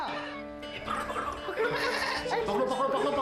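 A goat bleats repeatedly in wavering cries while being caught in a radio drama scene, close and fairly loud, with people's voices and scuffling mixed in.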